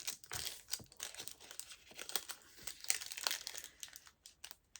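A white paper cupcake liner being folded by hand, with close, soft crinkling and crumpling bursts that come and go irregularly at low volume.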